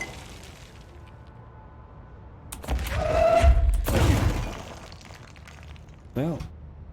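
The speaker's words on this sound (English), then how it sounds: "I just smashed it against the wall by accident" A radio is smashed against a wall in the video game Control, giving a heavy crashing burst with shattering debris that rumbles for about two seconds, followed by a short warbling electronic tone.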